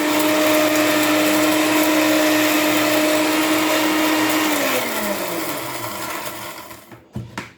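An electric grinder whirs at high speed as it grinds marinade ingredients for meat, one continuous loud buzz that slows and winds down near the end, followed by a couple of brief knocks.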